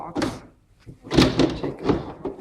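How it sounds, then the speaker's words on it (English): A box is opened with a few knocks and thunks, a short cardboard-like shuffle and muffled bumps heard close, with brief pauses between them. "So you open this box."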